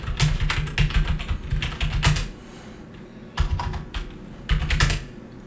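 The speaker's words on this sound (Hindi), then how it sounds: "कीबोर्ड से कंट्रोल A प्रेस करें" Rapid typing on a computer keyboard, loud close clatter of keystrokes in bursts separated by short pauses, with no voices.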